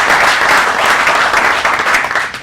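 A live audience welcomes young guest Mr. Robert Bray at a Prestige Ford leadership event with loud, steady applause that fills the room from start to finish, many hands clapping together, close by and with no talk over it.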